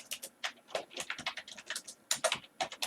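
Quick, uneven keystrokes tap on a computer keyboard, close and fairly faint, in short bursts with brief pauses and no voices.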